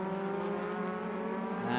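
A Trans Am race car at Road America, its engine a loud, steady, harmonic roar held close for a couple of seconds, with no distinct braking transient standing out.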